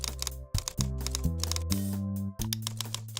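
Close, rapid typing on a computer keyboard as a catalog record for a Gretsch White Falcon is entered, in quick clustered keystrokes over a steady musical background.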